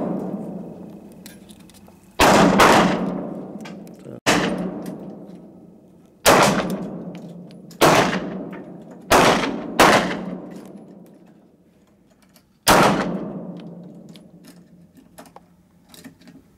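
Gunshots at a shooting range: seven loud, sharp reports fired singly at irregular intervals of a second or two, each with a long decaying echo, no talking.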